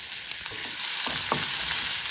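Chopped onion, ginger and green chilli sizzle steadily in a pan of hot oil with cumin, hing and spices for dal, a continuous close frying hiss with a few soft stirring scrapes and no talk.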